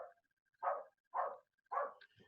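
A dog barks three times in an even rhythm, each bark clear and moderately close, with quiet gaps between and no talking over it.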